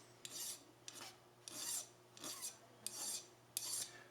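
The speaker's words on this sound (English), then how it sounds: "I want this file to be cutting, so I'm going all in one direction" Steel file rasping across a violin nut in repeated one-direction strokes, six close, distinct bursts of scraping with short pauses between them, over a low steady hum.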